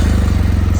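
A 2015 BMW R 1200 motorcycle engine runs loud and close just after firing up in the cold, a steady low rhythmic pulse of the boxer twin with nothing else over it.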